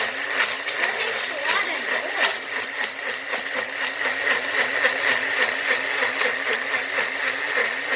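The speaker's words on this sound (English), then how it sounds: "But since it's a low power blender, guess I have to, or else it won't even blend." A low-power home blender crushes ice for snow cones, its motor whirring in a steady, rhythmic pulsing drone that grinds on throughout at close range, with a person talking over it.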